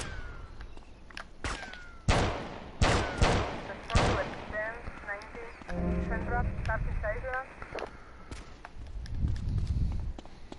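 Gunfire in GTA Vice City Definitive Edition: several loud, close single shots fired in a ragged sequence, followed by a rapid rattling burst, with voices talking in the game over it.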